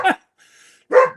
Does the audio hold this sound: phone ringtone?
no